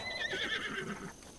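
A horse whinnies in Zelda: Breath of the Wild, a bright, wavering neigh lasting about a second over steady game ambience, fairly close and clear with no talk.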